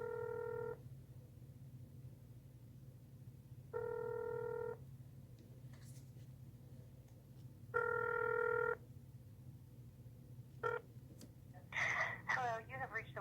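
Phone line after an extension is dialed: three evenly spaced ringback tones about four seconds apart, each under a second long, clear over a low steady hum, then faint clicks and a brief burst of voice at the end.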